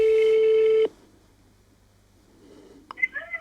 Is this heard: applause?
no